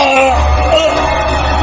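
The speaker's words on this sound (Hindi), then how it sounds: "और वो तड़प तड़प कर वहीं चिल्लाने लगा।" A man screams in agony for a horror story sound effect, one loud, strained, continuous cry held without a break from start to finish.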